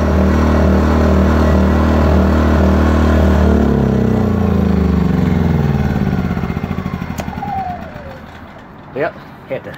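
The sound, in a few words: Wind 2000 generator engine running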